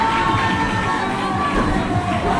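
A large arena crowd at a night-time martial arts show cheers and shouts continuously, a loud, dense roar with excited children's voices mixed in.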